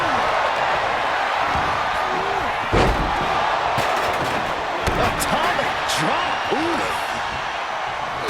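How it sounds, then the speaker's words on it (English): Hard body slams onto a wrestling ring in WWE 2K24, two or three loud thumps over a roaring arena crowd, with voices shouting and talking throughout. "he took a hard landing into the other ring"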